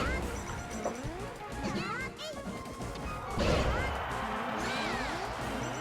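A down smash attack lands with a sharp crashing hit in Super Smash Bros. Melee during a tournament match, amid busy game effects, crowd noise and commentators talking.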